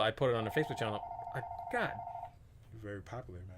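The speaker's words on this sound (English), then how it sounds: "We apologize for the phone ring." A telephone rings with a steady electronic warble lasting a couple of seconds, sounding under and between close conversational voices.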